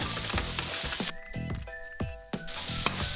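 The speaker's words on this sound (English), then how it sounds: "drop in the butter and mushrooms and brown for a few minutes" Mushrooms browning in butter in a pan, giving a loud, close sizzle and crackle broken by rhythmic knocks of a utensil moving them around.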